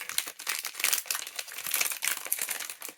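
Plastic cake packaging crinkles and crackles as it is worked open, with steady close-up rustling and small crunches and no talking, for a pistachio Dubai chocolate cream kadayif cake.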